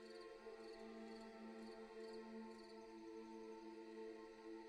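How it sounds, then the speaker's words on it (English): Steady crickets chirp as ambient background in a tabletop role-playing game app, a continuous, even, fairly quiet layer of trilling with faint periodic pulses and no voices over it. "the crickets in the game are"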